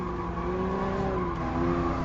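A race car slides on a circuit in the video game Gran Turismo Sport. A continuous engine drone runs with a steady tire-scrub hiss throughout, with no voices.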